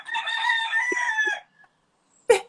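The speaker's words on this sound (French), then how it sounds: "j'ai un coq, j'habite dans la campagne" Countryside rooster crowing close and loud, one long harsh call lasting over a second, followed by a brief pause and a short sharp cluck-like burst.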